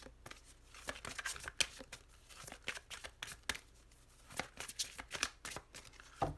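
Tarot cards shuffled by hand in a long run of quick, crisp riffles and slaps, close and fairly quiet, with irregular bursts and brief pauses between them and no talking.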